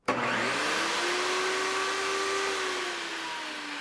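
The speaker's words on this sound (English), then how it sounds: "Now for the final test on the 120 volt output, both the vacuum and the table saw at the same time." A vacuum cleaner and a table saw, both powered from a 120-volt output of a Bluetti Apex 300 power station, start together with a sudden surge into a loud, sustained motor whine, easing slightly toward the end with no talking.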